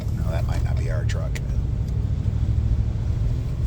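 A truck rumbles close by with a steady, heavy low engine drone that lasts throughout, while a voice speaks briefly near the start.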